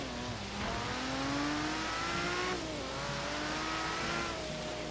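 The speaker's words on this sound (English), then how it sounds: "Let me get the Ferrari out of here" A Ferrari in Forza Horizon 3 accelerates hard, its engine note climbing through gear changes in steady, sweeping rises, loud and close throughout with faint tire noise beneath.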